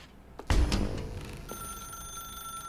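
A telephone rings inside The Stanley Parable video game, one sharp bell burst followed by a sustained electronic ring tone that carries on steadily, fairly loud against a faint background hum.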